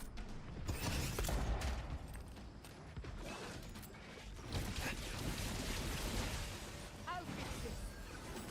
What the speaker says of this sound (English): There we go, lightning bolt.